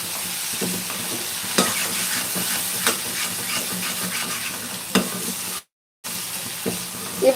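Minced mutton keema frying in a pan, a steady sizzle and hiss broken by occasional spoon taps and scrapes, close, with a short silent gap partway through and no talking.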